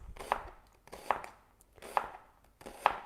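Four evenly spaced knife chops through beef on a kitchen board, each a crisp, close cut followed by a short pause, while making sweet teriyaki beef; no talking.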